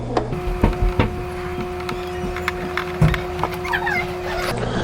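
Hang-on aquarium filter motor being scrubbed clean with a small brush or toothbrush, giving repeated soft scraping and rubbing strokes over a steady low hum, with a few sharper knocks.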